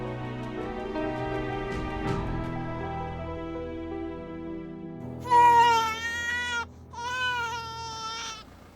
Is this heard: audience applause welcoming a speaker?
no